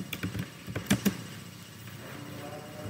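Faint scattered keystrokes on a computer keyboard, a few soft clicks in a short burst followed by quiet room noise.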